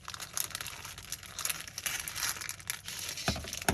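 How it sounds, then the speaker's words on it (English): Scissors snipping and slitting open a plastic bread bag, close crinkling and rustling of thin plastic with irregular crunchy cuts, quiet and alone. "cut this edge free just by making a little slit and then cutting it"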